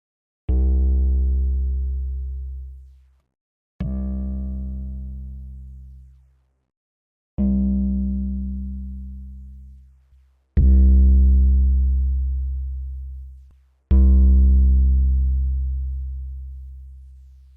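Five long 808 bass notes from the Polytone synthesizer sound one after another, each body module setting from A to E giving a slightly different tone, every note booming and then fading out before the next.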